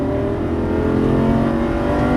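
Lamborghini Gallardo Superleggera LP570-4 engine pulling hard under throttle on a track, a loud, steady, rising mechanical roar close up with no pauses across the whole stretch.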